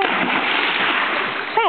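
Bailey the dog plunges into a backyard pool after a thrown toy, a broad continuous splash and churning water filling the moment, with a short voice cutting in near the end.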